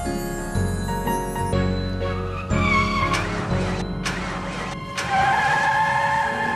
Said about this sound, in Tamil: என்ன வண்டி தாறுமாற போகுது?